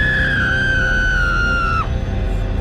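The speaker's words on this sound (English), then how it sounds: "The girl screamed in horror and a terrible thing happened" A girl's high, sustained scream of horror, a single long shrill cry that slowly sinks in pitch and breaks off sharply, over a low rumbling background.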